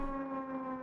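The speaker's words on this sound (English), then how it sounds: "when it makes that angry air raid siren thing" A wailing air raid siren in the video game Final Fantasy XI, a sustained tonal drone that holds steady and loud for the whole moment, with no talk over it.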